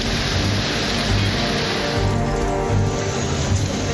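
Heavy rain pouring over the hill country of the Nilgiris near Gudalur and Pandalur, a dense, steady broadband wash with low rumbling gusts, loud and continuous with no voices.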